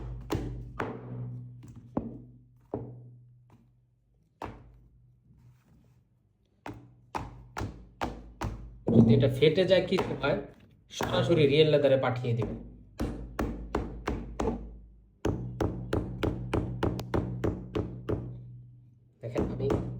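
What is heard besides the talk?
hammer striking a real leather shoe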